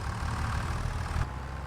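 A John Deere tractor engine idles in Farming Simulator 25, a steady low rumble held evenly, then dropping slightly in level near the end, with no talking.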